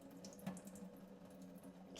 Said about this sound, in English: I buy it frozen, and then I just kind of fill it with water